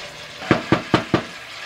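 A glass of water hits a hot pan of Persian sweet rice pilaf in four short, evenly spaced splashing, sizzling bursts, close and fairly loud with no talk.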